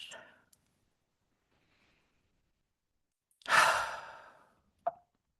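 A single deep, audible breath taken in and then released as a long sigh, close and alone in near silence, with a faint breathy sound just before it and a short click after.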